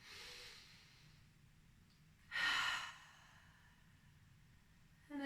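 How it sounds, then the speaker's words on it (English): A single deep breath during a yoga flow, a soft airy draw followed by a louder, fuller inhale that rises and fades, then the start of another breath, close and quiet. "and again inhaling and again inhale"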